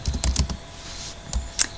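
Uneven bursts of clicking from a computer keyboard being typed on, close up, with short pauses between keystroke clusters and no talking.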